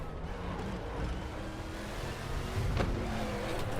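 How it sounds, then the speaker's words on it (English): A Gr5 Corvette in the RaceRoom racing game at Spa, with a steady engine drone and a brief wheelspin burst around a shift from first to second gear, heard alone without talk. "See the wheel spinning there from first to second gear"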